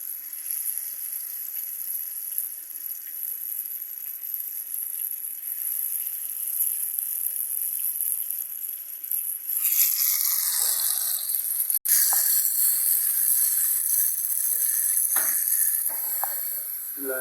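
Potato finger chips frying in ghee, a steady bright sizzle that swells suddenly louder and harsher partway through as more chips hit the pan, with a few clinks and stirs near the end; no talking.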